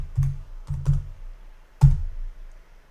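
Keys tapped on a computer keyboard in short clustered bursts, a few quick keystrokes, a pause, another pair, then a single firmer press, close and fairly loud with no talking.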